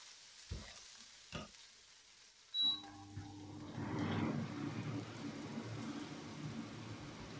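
Shallots hit a hot pan after a few light taps, and a steady, moderate sizzle then carries on to the end with no one speaking.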